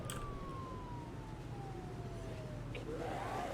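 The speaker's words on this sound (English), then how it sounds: "Just the actual audible siren's probably plenty." A siren wails in one long tone that slowly falls in pitch over a steady low rumble. Near the end a second warbling siren tone comes in, and no one speaks.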